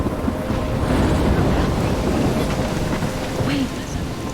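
Storm in Life is Strange: crashing waves and heavy rain with wind roaring continuously, loud and close, and a low rumble of thunder underneath.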